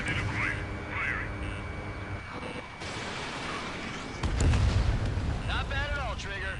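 Missile launches and blasts in the jet combat game Ace Combat 7, a whooshing roar and a heavier rumbling explosion toward the end, mixed with radio chatter and voices.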